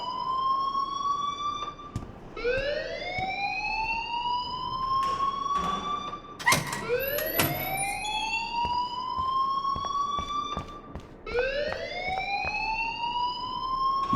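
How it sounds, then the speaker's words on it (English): A wailing electronic alarm in Life is Strange rises and falls in repeated sweeping cycles, loud and close, with a few clicks and knocks between the sweeps. "please turn off that alarm since that's your job"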